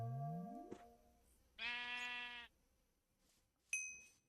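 Cows summoned by a ritual in a Minecraft modpack: a rising tone, then a single drawn-out nasal moo, ending in a short chime-like ping.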